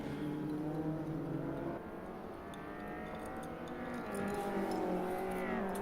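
A Subaru touring car drifting sideways on a race track, its engine holding a loud, sustained drone that dips briefly and then climbs again as revs rise, heard steadily from a distance without talk.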